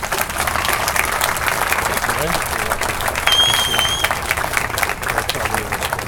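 Applause from an audience at a college event welcoming a speaker to the stage, dense and steady clapping throughout, with a brief tonal whistle or feedback partway through.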